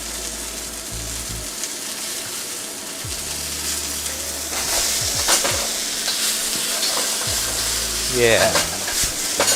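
Beef steak sears in a pan, sizzling steadily while a utensil scrapes and stirs, with the frying growing louder midway and a brief word spoken over it.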